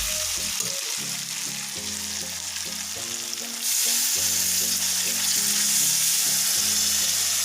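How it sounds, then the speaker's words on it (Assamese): Chicken meat fries in a pot with loud, constant sizzling while it is stirred, then water goes in and the hiss grows brighter and stronger, with rhythmic scraping throughout and no voices. "এতিয়া আমি ইয়াত মাংসত পানী দি দিম"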